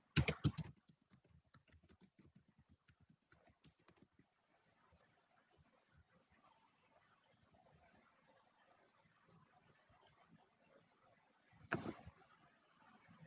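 Typing on a computer keyboard while entering accounting data: a quick run of soft key clicks, faint and close, fades into quiet hiss, then a brief louder burst of keystrokes near the end.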